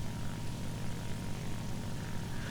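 A Ki-43 II propeller fighter in War Thunder holds a loud, steady engine drone with a buzzing propeller roar, unbroken and close throughout.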